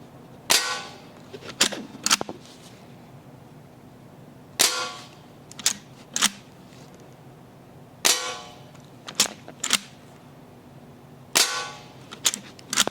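An Umarex Winchester air rifle fires eight sharp, loud cracks, each followed shortly by a lever clack, in an uneven series of close shots with quiet pauses between them.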